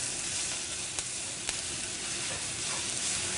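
Fajita meat, peppers and onions sear in a hot pan with a loud, steady hiss. Two faint ticks sound from the pan near the start.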